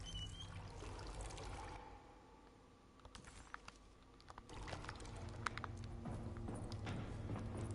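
Gas trickles and splashes from a can into a boat engine in the video game Alone in the Dark, a steady, faint pouring over a low background rumble for several seconds.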